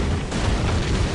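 A TNT charge blows a door apart in the online battle game Panzar, a loud deep boom that fills the whole moment with a rumbling roar and brief crackle.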